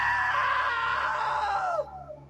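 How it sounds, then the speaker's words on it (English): A loud, sustained scream in the game What Remains of Edith Finch, wavering and then sliding downward before cutting off sharply, with a faint tail afterward. "Now that was a great scream."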